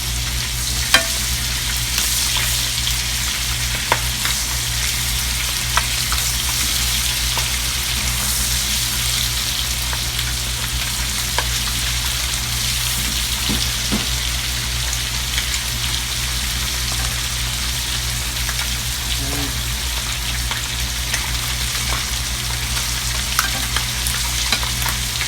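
Fish pieces crackle and sizzle steadily in a butter and oil mixture in a pan as they are turned one by one, a long, even, close hiss with occasional small utensil taps and scrapes.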